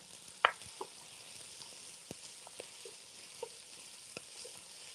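Carrots sautéing in coconut oil with garlic in a pan, a quiet, steady sizzle with scattered small pops and crackles and no talking.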